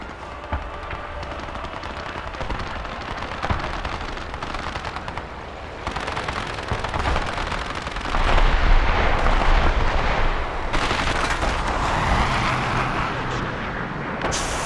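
Machine gun fire and heavy battle noise in StarCraft 2: Legacy of the Void, a dense, loud, continuous barrage of rapid shots and blasts that swells in intensity toward the end, with no voices.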